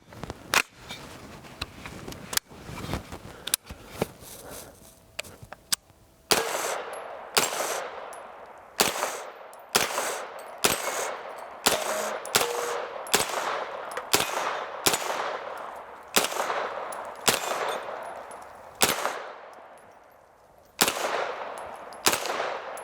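Gunfire from a Smith & Wesson Response firearm: a few scattered shots, then a steady run of loud, sharp single reports, roughly one per second, each with a ringing decay, close to the listener.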